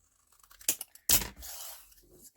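Two brief crisp snips of scissors cutting folded, burnished paper for a mini pocket folder, the second louder and trailing into a soft rustle.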